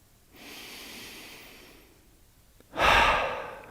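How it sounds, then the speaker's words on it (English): Deep breathing during a short seated office workout: a slow, long inhale through the nose followed after a pause by a louder, forceful breath out, close and alone without talk. "Another deep breath in."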